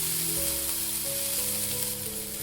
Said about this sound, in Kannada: ಇದೇ ಎಣ್ಣೆಯಲ್ಲಿ ಎಲ್ಲ ಮಸಾಲೆನ ನಾವು ಹುರ್ಕೋಬೇಕು